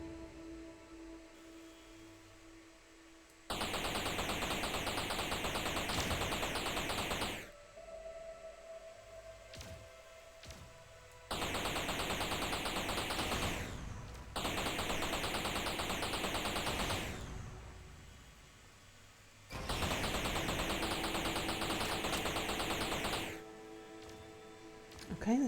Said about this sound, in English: Yep, the guns are already shooting at something.